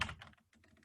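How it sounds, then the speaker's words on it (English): Rapid keystrokes on a computer keyboard while entering a material name in Revit software, a close burst of clicks followed by a short pause and a few lighter taps. "I like typing the material first"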